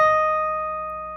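A single sustained guitar note played on the 11th fret rings out clearly and alone, its bright tone slowly decaying over about a second.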